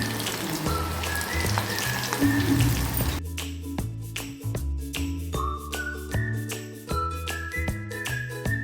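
Pakora batter drops into hot oil for dahi kadhi, giving a dense, hissing sizzle for the first few seconds, then a quieter, sparser crackle with light tinkling clinks of utensils.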